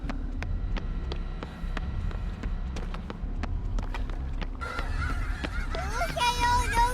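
Geese honk in a Dead by Daylight match, with nasal calls rising near the end over sharp running footsteps and a low rumble of ambience.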